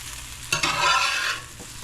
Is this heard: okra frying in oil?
yes